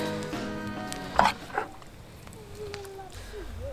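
A serving spoon scrapes pasta sauce mix into a pot of strained pasta, giving two brief metallic clinks against the pot over quiet background noise.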